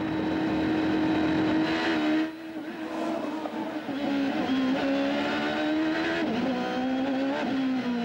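Champ Car race cars at speed on the Vancouver street circuit, a loud sustained engine howl rising and falling through gear shifts, with a brief dip as one car passes before others roar on close by.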